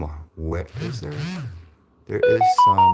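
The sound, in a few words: mobile phone notification tone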